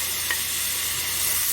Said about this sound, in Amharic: ሽንኩርቴ እንደዚህ እንደምታዩት ተጠብሶልኛል